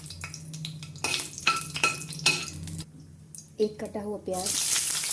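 Chopped onion, a bay leaf and dried red chilies frying in oil in a kadhai for a drumstick curry, with stirring and scraping clinks over a soft sizzle while someone talks throughout.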